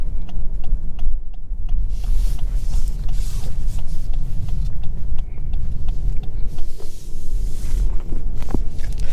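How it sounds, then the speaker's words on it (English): A 2023 Lexus LS500 AWD drives along with a steady low road rumble and cabin hum, small creaks and ticks from the interior surfacing throughout, no voices. "let's go ahead and take the LS500 for a quick drive and see how she does"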